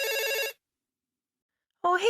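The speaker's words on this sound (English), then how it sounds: "the house phone rang" A cordless house phone rings with a bright electronic trill that lasts about half a second, then falls silent for more than a second before a voice begins speaking.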